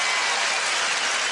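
Tennis crowd at the US Open cheering and applauding during an Agassi–Becker match, a dense, steady roar of clapping and cheers filling the whole moment without pause.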